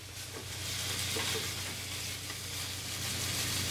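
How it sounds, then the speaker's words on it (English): Pork tenderloin sears in clarified butter with a steady, even sizzle and faint crackle, moderately quiet and continuous, with no voices. "then sear in clarified butter"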